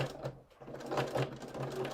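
A sewing machine stitches a seam across the corner of a cross stitch Christmas pillow, its steady rapid whirring running close and continuous with slight swells in speed.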